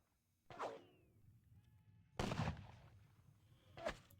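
Musket volleys from a Napoleonic-era battalion in the strategy game Ney at the Katzbach, three sharp bursts spaced a second or more apart, each trailing off with a short rumble.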